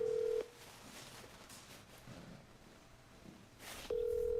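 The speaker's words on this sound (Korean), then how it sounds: "자, 바로 전화 연결해 볼까요?" On a radio show, a phone call rings out while connecting, with a steady tone at the start, a quiet gap, then the tone resuming at the end.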